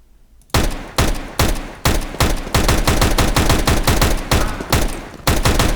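Tech 9 pistol fire in CS:GO: about fourteen sharp, loud shots, spaced unevenly and quickening into a near-continuous burst, with each crack ringing briefly before the next.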